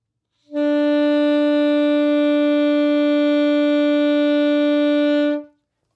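An alto or baritone saxophone holds a single sustained note B for about five seconds, clean and steady at even loudness, alone with no other sound.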